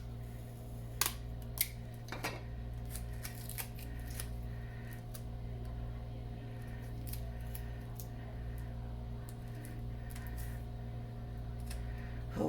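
Paper strips being taped together at a craft table, heard as scattered sharp clicks, rustles and short tape tears, close and fairly quiet over a steady low hum.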